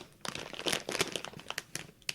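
A Halloween candy wrapper crinkles and crackles close up as fingers work at it, quick irregular plastic rustles and sharp crinkles in a short quiet burst with no talking.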